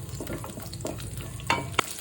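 Minced garlic frying in a pan for a beet stir-fry, a steady sizzle with a few scraping stir strokes and sharp utensil clinks near the end, no talking.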